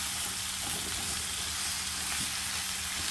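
Vegetables fry in hamburger grease with a steady, even hiss and crackle, moderately quiet and continuous, with faint stirring sounds beneath.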